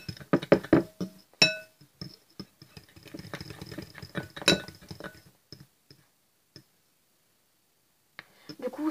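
A mixture is stirred in a bowl with a utensil, giving irregular clinks and taps, busy at first and then sparser. Quiet gaps fall between the later strokes.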